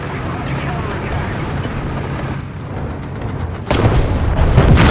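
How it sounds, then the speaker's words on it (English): In War Thunder, a tank shell slams into the commander's hatch of a T-34-85, a sudden heavy boom that cuts into low engine rumble and then swells into a loud roar, heard up close. "I think he hit my commander's hatch."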